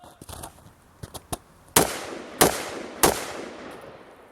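AR-15 rifle shots fired on a shooting range: a few lighter distant pops, then three loud, sharp close shots spaced roughly evenly, each ringing out briefly.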